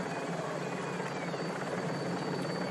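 Helicopter hovering over the 1995 Tour de France stage 15, a steady loud rotor drone with dense broadband chop filling the whole stretch, no voices.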